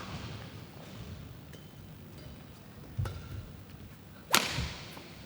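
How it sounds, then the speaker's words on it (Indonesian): A hard badminton smash cracks once like a whip near the end, with a smaller hit a second earlier, above a low murmur from an indoor tournament hall. "Smash yang keras namun sangkut di net."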